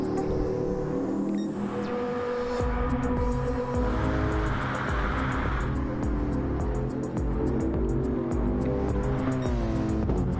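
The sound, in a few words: race cars on out lap warming up cars and tires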